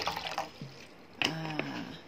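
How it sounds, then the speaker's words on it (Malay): Fresh water poured back into a container for a school science experiment on soluble and insoluble substances, a gentle trickling pour with brief splashy bursts. "Cikgu masuk semula air yang baru"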